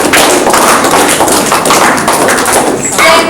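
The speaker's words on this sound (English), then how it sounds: "in my culture, we do a clapping for respect and for thankings" Women and girls clapping together as a cultural gesture of respect and thanks at a school grade 5 celebration, a dense continuous patter of many hands, fairly loud and close, lasting the whole stretch.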